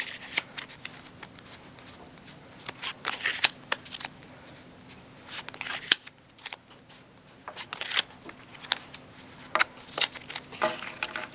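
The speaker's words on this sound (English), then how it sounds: "I'm going to flip some of the cards around." Playing cards being flipped around and handled within a deck, a run of quick crisp snaps and flicks in irregular bursts, close and clear, with no one talking.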